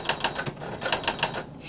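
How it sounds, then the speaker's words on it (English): Typewriter keys striking in quick clusters, two bursts of sharp clacks separated by a brief pause, close and fairly quiet. "he has a typewriter that spells for him"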